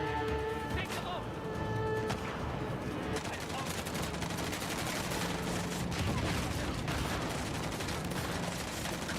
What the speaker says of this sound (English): Who the fuck's shooting me?